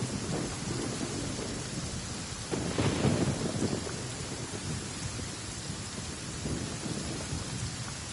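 Steady rain with thunder rumbling in Genshin Impact, a dense continuous downpour with a deeper swell of rumble near the middle.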